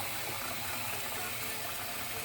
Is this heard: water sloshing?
yes